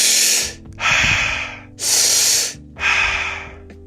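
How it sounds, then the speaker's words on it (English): Deep, forceful breathing exercise, four long loud airy breaths in a slow rhythm, each a sustained rush of air separated by short pauses, close and alone with faint background music. "Just do 5 minutes of that type of breathing."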